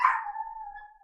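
Teddy the dog lets out a single drawn-out howling bark, close and loud at first, then trailing into a long steady whine that fades slowly.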